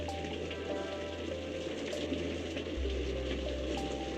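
A shower runs as a steady, soft wash of spraying water, heard faintly and continuously with low hum and thin tonal sounds underneath.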